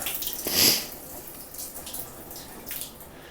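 A hotel room shower head runs water in a bathroom, a hissing spray with a loud rushing surge early on, then a softer steady flow with small splashes.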